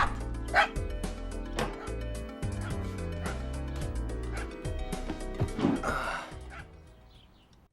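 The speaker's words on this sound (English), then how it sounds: "he has to deal with a non-stop barking dog" A dog in the FMV video game Tender Loving Care barks non-stop, close and loud, with rapid repeated barks and yips before the noise fades out at the end.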